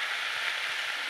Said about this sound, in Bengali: রান্না চলো পালং শাক বেগুন আর আলু বাহ সুন্দর।